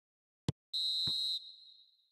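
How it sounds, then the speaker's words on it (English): A referee blows the final whistle in an eFootball video game match: a single, sharp, high whistle blast lasting about half a second and fading out, preceded by a brief click. "And there goes the final whistle."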